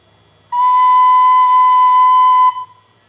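A flute sounds the note B in one steady, sustained tone of about two seconds, clear and close with soft breathy overtones, then stops into near silence.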